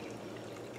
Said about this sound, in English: I'm adding just straight water to this